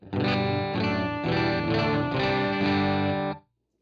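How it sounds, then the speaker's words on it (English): Electric guitar played through a Line 6 HD500 modelling a Vox AC30 amp, chords strummed in a steady rhythm with a driven, shimmering tone and effects, loud and close, then cut off abruptly. "Hasn't fundamentally changed that AC30 sound"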